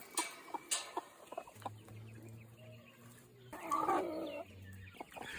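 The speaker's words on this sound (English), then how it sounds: "Chicken from Sussex. It's an English one." Sussex chickens, an English breed, cluck softly at a winery with scattered faint calls. Low background hum and outdoor noise run underneath.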